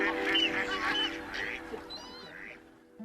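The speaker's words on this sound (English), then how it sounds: "Sometimes only the quack of a duck pierces it." Waterbirds at the Martin Mere wetland centre, a few duck quacks and honking goose-like calls rising over a steady low wetland hum, fairly close and clear with no talk.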